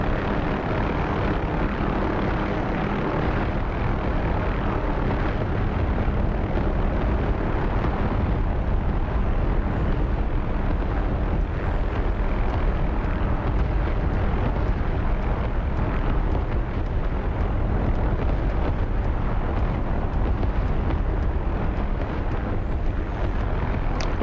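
Aircraft engine roaring steadily at close range, a broad continuous rumble with a push-pull, jet-like drive rather than a rotor's chop, holding loud and unbroken throughout.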